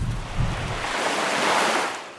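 Waves wash onto a Great Lakes beach, a broad, steady surf rush swelling and easing over a couple of seconds, with wind buffeting the microphone and no voices.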